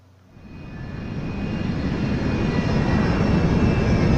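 A double-decker plane engine in Resident Evil 6 swells from quiet into a loud, steady droning roar that builds over a few seconds and holds, close and without speech.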